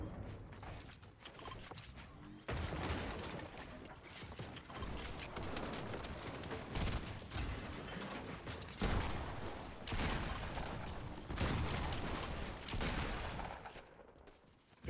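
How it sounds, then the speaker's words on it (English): Gunfire crackles in Fortnite during an esports match, dense bursts of rapid shots mixed with mechanical clatter, fairly faint and continuous throughout, with no talk. "There's shots all over the place"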